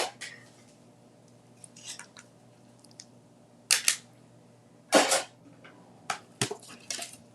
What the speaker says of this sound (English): I'm gonna grab my mini and cut and emboss machine and cut this out